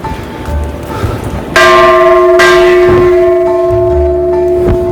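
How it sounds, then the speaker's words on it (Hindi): The huge bell at Kalpeshwar Mahadev temple in Uttarakhand is struck twice in quick succession, loud and near, its deep metallic tones ringing on and slowly fading, with no talking. "मंदिर में बहुत बड़ा सा घंटा लगा हुआ है।"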